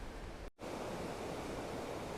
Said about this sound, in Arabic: انظروا إلى هذا النهر، انظروا إلى غزارة المياه